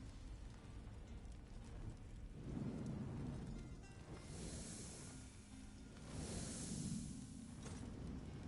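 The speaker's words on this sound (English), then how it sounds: "The storm abates" A thunderstorm in the video game Elder Scrolls Online sounds as a steady wash of heavy rain with low, rolling rumbles of thunder swelling twice, with no voices.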